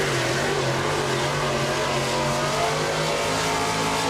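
A race car drives flat out on a track, its loud, steady engine roar holding constant and close for the whole stretch.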